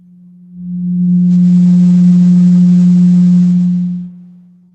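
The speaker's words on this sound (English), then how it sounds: "let's listen to what the 180 total degrees contained in a triangle sound like" A pure, steady 180 Hz sine tone fades in, holds loud and unwavering for about three and a half seconds, then fades out, heard alone.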